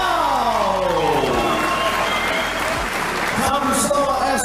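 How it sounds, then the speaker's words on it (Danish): Applause and crowd noise greet boxer Sofie Rosshaug at a boxing match, dense steady clapping filling the hall while an announcer's amplified voice carries over it. "Så giv et bifald til Sofie"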